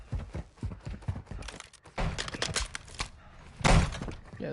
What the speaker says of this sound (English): Yeah, those are definitely player footsteps.